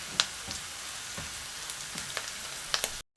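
Garlic browns in a pan for a pork spaghetti sauce, giving a soft, steady sizzle with a few scattered light pops and spits, heard close and fairly quiet.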